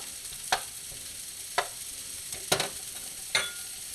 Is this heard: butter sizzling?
yes